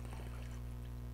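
Water rushes into a bucket to flush material out of a cat food or tuna can during field sampling. It makes a continuous, close pouring wash over a steady low hum.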